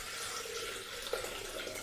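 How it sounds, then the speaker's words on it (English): Water poured steadily from a tap into a Thermomix bowl to top up stock, a continuous close hiss of running water with a small splash near the middle. "now I'm going to top it with water to bring it up to that weight"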